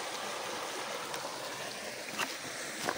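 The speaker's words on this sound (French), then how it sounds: "et le ruisseau qui passe ici" A stream runs past a ruined old village, a steady broadband wash of flowing water with a few brief splashy accents near the end, close and continuous without voices.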